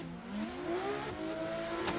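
Drift cars, a BMW and a Nissan S15, racing in close tandem at a Tocancipa drift event, their engines revving high and steady with shifting pitch, loud and continuous.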